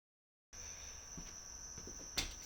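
After a brief silence, a single cricket chirps with a steady, thin, high-pitched trill that sits close and fairly faint against a quiet room-noise background, with no speech.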